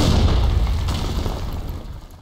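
A loud, booming sniper rifle shot in the video game BlackShot, with a heavy low rumble that decays gradually over a couple of seconds.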